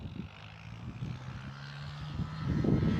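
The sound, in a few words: Jetstar 445 aircraft to Melbourne at Gold Coast Airport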